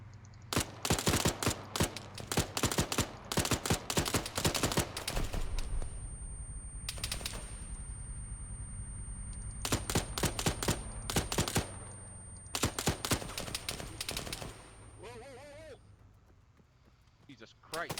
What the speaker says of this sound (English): Oh shit, shots fired.